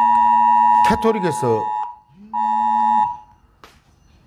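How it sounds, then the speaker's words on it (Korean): An emergency disaster alert tone blares from a phone in two loud sustained electronic buzzing blasts separated by a short gap, with a voice speaking over the first blast. "재난 경보 뜨네요."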